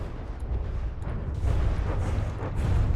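Heavy barrage of heat shells firing in a robot battle video game, a dense run of deep booms and bursts rolling together without pause, loud and continuous with swells of louder impacts.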